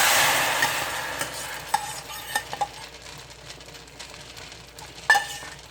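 Fried garlic pours into a pot with a sizzling rush that fades, followed by scattered utensil clinks and scrapes as it is stirred, among sea snails and sour bamboo, with no talking.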